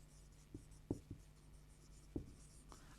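Chalk or marker writing on a board in a class-eight science lesson, a few short faint scratchy strokes in two small clusters over a steady background hum, no talking.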